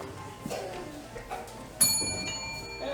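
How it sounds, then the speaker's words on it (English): A small bell rings out sharply partway through a stage performance of It's a Wonderful Life, its bright tone lingering and fading over a low murmur of voices and room noise. "Every time you hear a bell ring, an angel gets its wings."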